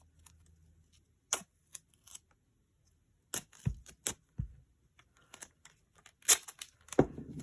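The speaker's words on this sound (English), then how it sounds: "Maybe I'll put a little duct tape in here. I have to like tear it in half or something." Duct tape is pulled and torn by hand during junk journal crafting, giving several sharp, brief ripping bursts with quiet gaps between them, up close and without talk.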